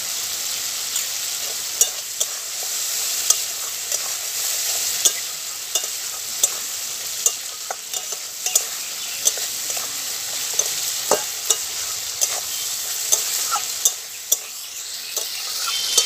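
Spice masala frying and being stirred with a little water in a pan for an egg omelette curry, a steady close sizzle broken by regular scraping strokes of the spoon, with no talk.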